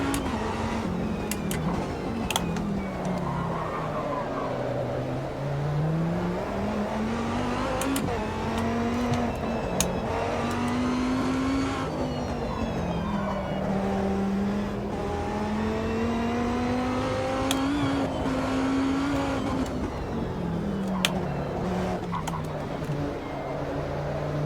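Dodge Viper racing engine in the Gran Turismo video game, a loud front-engined V10 drone that rises and falls steadily through gear changes and revs, continuous close-up throughout with no talk over it.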